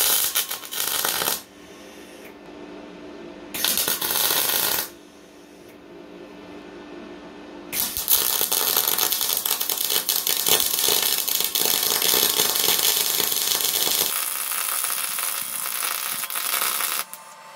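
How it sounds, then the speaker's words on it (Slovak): Cheap VEVOR MIG/MAG welder laying a fillet weld on 10 mm material at full power, a loud harsh crackling hiss in several bursts, the last one long and sustained, with no talk. "vyskúšame plný výkon tejto zváračky a skúsime si kutový zvar na"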